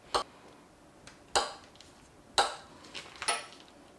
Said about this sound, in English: I'm gonna be adding 1 stick of butter, which I'm gonna cube up beforehand